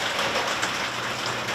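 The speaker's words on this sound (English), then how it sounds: "That's rain." Steady rain falling on a surface, a dense even hiss of drops at constant loudness with no pauses or voices.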